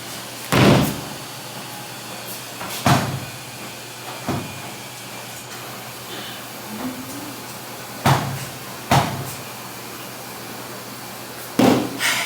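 Laundry machine door that won't stay shut being closed repeatedly, about six loud, close thuds and bangs at irregular intervals, with a faint hiss between them and no talking.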